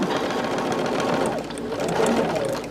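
A sewing machine stitches binding at a 3/8 inch seam, a steady, fast mechanical whir and rattle that runs without pause, close and fairly quiet, with no talk over it.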